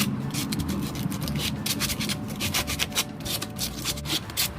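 Hand sanding a wooden toy box, steady rhythmic rasping strokes of sandpaper rubbing back and forth across the wood surface, close and continuous.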